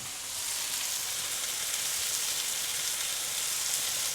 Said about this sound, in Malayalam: എണ്ണ ഏകദേശം ചൂടായി കഴിയുമ്പോൾ തന്നെ നേരെ സവാള എടുത്തങ്ങ് ഇടുക. എന്നിട്ടങ്ങ് വരട്ടുക.